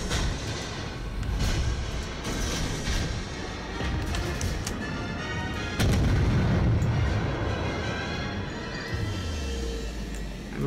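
Naval guns firing in the World of Warships game, heavy booming salvos with rumbling tails, loud and dense, one big blast near the middle, ending in a low descending drone.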